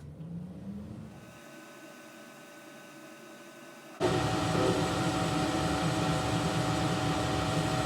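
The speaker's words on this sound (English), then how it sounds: "So let me turn the machine on and the dust collector." A laser engraving machine and its dust collector hum quietly, then a loud, steady broadband roar switches on abruptly and keeps running evenly.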